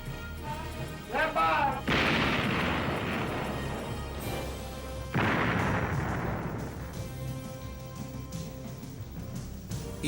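An Iowa-class battleship's main guns fire two heavy booms a few seconds apart, each blast rolling off into a long rumbling decay, with a voice briefly heard early on.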